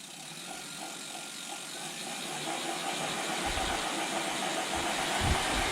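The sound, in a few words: motorized wheel spinning up under power after thumb throttle is pushed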